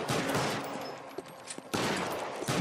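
Gunfire from the LA Noire shootout comes in rapid, dense bursts with short pauses between volleys, loud and harsh and close by.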